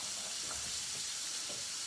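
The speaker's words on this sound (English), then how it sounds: "I have my second batch of fish in the fryer, or in my pan frying" Fish frying in a pan, a steady close sizzle and crackle of hot oil running without a break for a couple of seconds, with no one talking.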